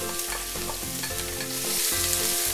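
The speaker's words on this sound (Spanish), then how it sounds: "y aquí la vamos a sofreír." Chopped onion sautéing in hot oil in a paella pan over fairly high heat for a seafood paella, a steady close crackling sizzle with stirring scrapes throughout and no talk.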